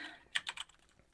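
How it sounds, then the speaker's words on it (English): Keyboard typing in a short burst of three or four close, crisp keystrokes, then a few fainter taps trailing off, with no talking. "I'm finishing typing my thoughts"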